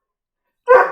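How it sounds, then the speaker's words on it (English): A dog named Henry lets out a single sharp bark close by, bursting in suddenly after silence and ringing briefly. "Hey, Henry, no barking."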